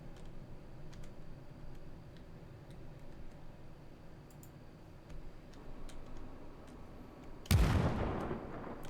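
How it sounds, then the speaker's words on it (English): Dynamite blast in the space mining game Digger: Galactic Treasures, a single loud, deep boom that rolls off slowly after a stretch of soft ticking and faint background noise. "So, dynamite. Now we go explode things."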